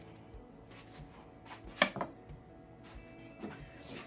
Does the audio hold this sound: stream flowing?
no